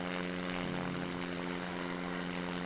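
A plane engine in the Simple Planes video game drones steadily as it builds speed for takeoff, a constant layered whirring hum with no talk.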